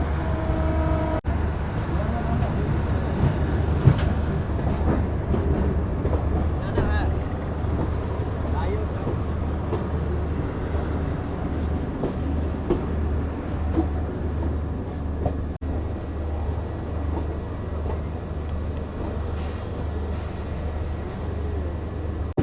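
The Jaynagar to Janakpur passenger train rolls along just after departure from the international platform, a steady low rumble and rattle filling the whole stretch, with voices talking over it throughout.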